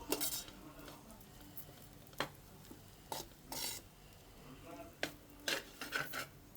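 Rice being stirred in a pan of hot oil, with scattered scraping and clinking strikes of a spoon against the pan over a faint sizzle, several sharp knocks spread irregularly.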